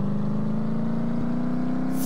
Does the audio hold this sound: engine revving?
yes